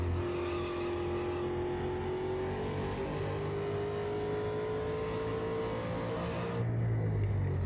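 Race car engine in the NASCAR 2001 video game, a steady high droning whine held throughout, rising slightly in pitch, with a low rumble swelling near the end.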